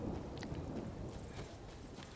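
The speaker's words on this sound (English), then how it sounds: "It's a little bit rainy." Steady rain in the video game Skyrim (Elder Scrolls V), a dense continuous hiss and patter filling the scene at a constant moderate level, with faint distant rumbles underneath and no talk.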